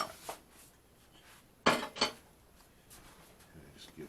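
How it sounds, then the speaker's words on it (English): A utensil stirs chicken francaise in a pan, with two sharp metallic scrapes and clinks close by against a quiet kitchen background and faint small knocks around them. "just give that some gentle stirring"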